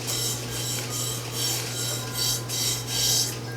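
Paper label being rubbed down by hand onto a glass jar coated with coffee-tinted Mod Podge, giving soft rhythmic rasping strokes in steady repeated passes over a constant low hum.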